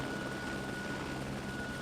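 Steady, muffled rotor and engine drone fills the empty cabin of a transport helicopter that carries eleven troops in the video game eden*, an even hum with no other sounds.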